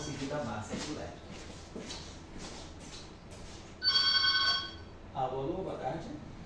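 A telephone rings during a physics lecture on electroweak theory, a single stretch of steady electronic ringing standing out clearly amid surrounding talk and room noise.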